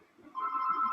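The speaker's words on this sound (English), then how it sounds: "Sorry, another phone call." Phone ringing with an incoming call, heard as a faint tone that swells and then holds as a steady electronic ring, with a soft background murmur and no clear talk.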